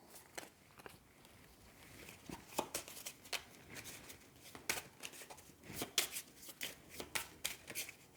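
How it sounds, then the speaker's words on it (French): Cards drawn one after another in a solo game of Marvel Champions, six of them, giving quiet, close papery snaps and slides in an irregular rhythm. "Et je pioche, du coup, 6 cartes"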